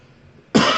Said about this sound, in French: j'ai un peu la toux